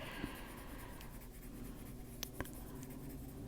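Bistre-colored pencil lightly shading across a paper page, a steady soft scratchy rasp running continuously with a few small taps of the pencil, close and quiet with no talking.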